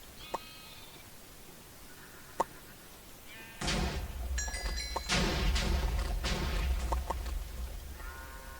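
Blocky Minecraft sheep bleating repeatedly in a Sheep Wars match, a chorus of overlapping bleats over a low rumbling background, preceded by a few sparse sharp clicks and chimes.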